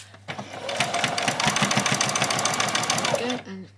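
A sewing machine runs steadily through a back stitch on a doll's dress, with a fast close mechanical rattle for about three seconds before it stops.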